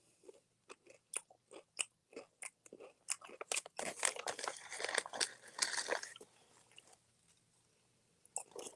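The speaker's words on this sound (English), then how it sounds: "I should have put ASMR with all this crunching I'm doing" Loud, close crunching and chewing from someone eating a crisp snack, with a dense run of bites and crunches in the middle and sparser, isolated crunches before and after.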